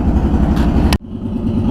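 A vehicle engine idles while warming up before freeze-up, a loud pulsing low rumble that drops abruptly partway through and then continues at a steady idle.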